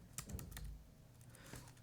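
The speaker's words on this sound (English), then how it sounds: "as I start typing this tool, we should get type ahead" Fingers type on a computer keyboard, a quick burst of close clicky keystrokes at the start, a pause, then a few more taps near the end, fairly quiet and without talk.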